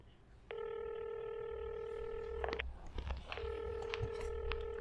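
A telephone call in a comedic Hindi news skit: two long, steady electronic tones with harmonics, the first lasting about two seconds and the second starting after a short gap, with faint clicks and a low background hum, no talk.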